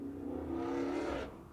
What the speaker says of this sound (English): Whenever you hear a loud car being an asshole outside